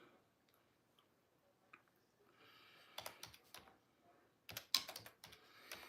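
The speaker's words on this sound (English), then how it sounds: "If I just type in the word bags" Keys tapped on a computer keyboard, in a few scattered, quiet clicks that build into a quicker burst of close, sharp strikes near the end.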